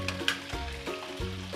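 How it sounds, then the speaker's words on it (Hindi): Chicken pieces fry with ginger garlic paste in a pan for nihari, a steady close sizzle with a few stirring knocks, and no one talking. "और सिर्फ 1 से 2 मिनट हम अदरक लहसुन के साथ चिकन को फ्राई करेंगे।"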